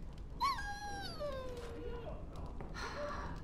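A dog in the video game Dragon Age Origins whimpers in two drawn-out whines, each sliding downward in pitch, at moderate volume with faint game ambience behind.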